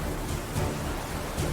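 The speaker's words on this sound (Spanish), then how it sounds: "Las nubes ennegrecidas lanzan lluvia y granizo sobre la tripulación" Rain and hail lashing down on a ship's crew in a storm, a dense steady roar of pelting drops with faint low rumbling swells underneath, continuous and loud throughout.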